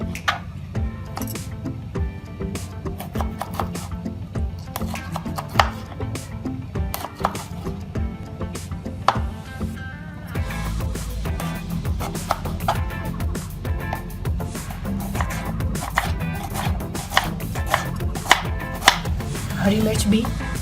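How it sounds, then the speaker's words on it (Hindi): A knife chops tomatoes finely on a cutting board, making a long series of quick, crisp taps in a steady rhythm that are close and distinct. "टमाटर को भी चॉप कर लेते हैं।"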